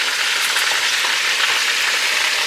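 Burgers fry in a pot with a loud, dense sizzle that hisses steadily and evenly from start to finish, close up with no talk.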